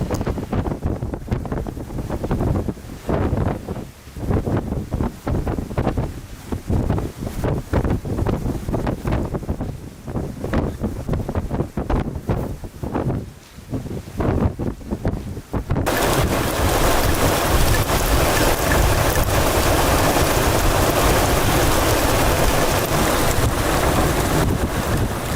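Tropical Storm Eta batters the Florida coast near Tampa Bay with steady, roaring wind buffeting the microphone and rushing rain, the gusts surging in uneven waves before settling into a constant, harsher roar.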